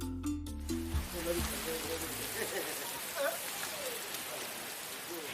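Steady rain patters outdoors at a home in Africa, a continuous wash of drops with low voices and clatter at the start fading into the soft hiss.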